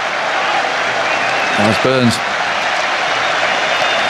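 Crowd at Edgbaston cricket ground cheering and applauding during a Test match, a broad steady wash of distant clapping and cheers throughout, with someone briefly talking over it.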